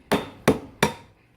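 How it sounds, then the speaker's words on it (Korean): A hammer strikes a chair part three times at an even pace, each a sharp, close wooden knock with a short decay. "망치로 이 부분을 강하게 천천히 이렇게 제거됩니다"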